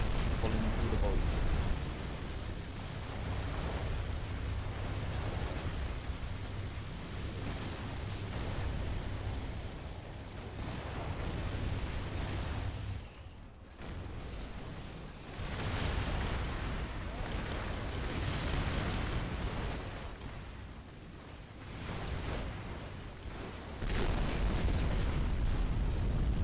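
Missile strikes in the Rise of the Reds strategy game, a long, dense wash of explosions and booming impacts that stays loud with brief lulls, while a commentator talks over the battle.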